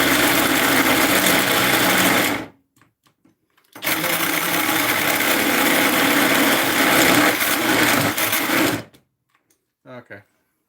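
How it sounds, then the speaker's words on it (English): A cheap cordless drill whines at a steady high speed for about two seconds, stops, then runs again for about five seconds before cutting out. A faint voice follows. "For the record, these are very cheap drills"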